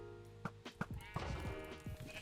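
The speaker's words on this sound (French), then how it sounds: "on va buter ce mouton" Sheep in the Minecraft Sheep Wars game bleat in several quick, nasal calls mixed with clicky in-game effects. The sounds are moderately loud and close, with no one talking over them.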